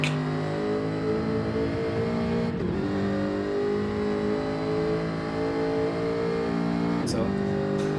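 A race car engine at speed on a circuit: a sustained, loud whining engine note with shifting harmonics, holding steady and dipping briefly around two and a half and seven seconds as it changes gear or lifts.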